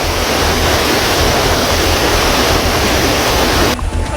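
The Tuntang River's floodwater rushes across a flooded road in Grobogan, Central Java, after the embankment broke. A loud, even roar fills the scene and cuts off near the end.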